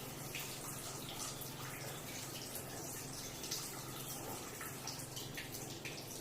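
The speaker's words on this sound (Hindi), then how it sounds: "ये टैप के अंदर पानी आ रहा है" Tap water, RO-filtered, runs steadily into a K8 water ionizer device, a constant soft rushing wash with no voices, even and unbroken throughout.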